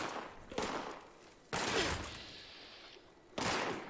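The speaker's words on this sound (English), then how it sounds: "Someone's taking a shotgun to me" Shotgun blasts in the video game Fallout 76, three loud booming shots spaced about a second apart, each with a decaying tail.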